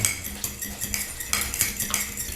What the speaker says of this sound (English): Give it a quick whisk.